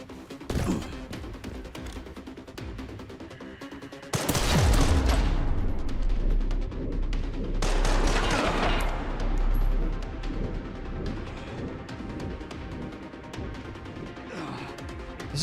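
Heavy bursts of automatic gunfire from enemies in Resident Evil Requiem, loud and close, with a big crashing boom near the start and sustained rattling fire that slowly thins out.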